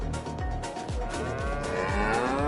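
Cows in the farming video game Farm Sim 22 moo in several loud, close, overlapping calls, each a low drawn-out bellow that slides in pitch, with no talking.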